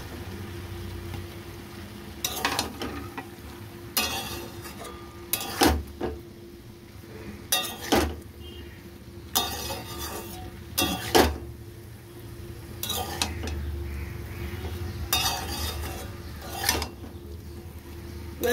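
Cauliflower and spices are stirred in a pan in repeated scraping strokes, roughly a dozen spaced bursts over a low, steady background hum.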